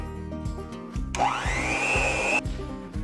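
A handheld electric mixer whirs into a bowl of cream cheese for cupcake frosting, starting abruptly and running steadily for about a second and a half over a low rhythmic background hum.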